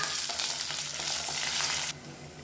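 Cumin, garlic and curry leaves fry in hot oil, a bright crackling sizzle with stirring that cuts off abruptly near the end, close and fairly loud.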